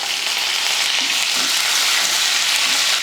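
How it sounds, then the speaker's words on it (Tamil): Two dried red chillies and curry leaves frying in hot oil for curry leaf rice, a dense, constant crackling sizzle, close and steady throughout with no talk. "இந்த டைமில் 2 வரமிளகாயும் கொஞ்சம் கருவேப்பிலையும் சேர்த்துக்கலாம்."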